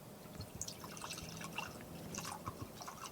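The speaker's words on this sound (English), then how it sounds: "You can hear the pour." A dark drink pours in a steady trickle held close to a microphone, with soft dripping and splashing patters throughout and no talking.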